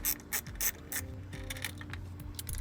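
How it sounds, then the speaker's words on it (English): A ratchet wrench tightens a nut down on a ground terminal stud of electric trailer brakes, rapid close-up clicking in short bursts with brief pauses, no talking. "reinstall the nut, and tighten that back down"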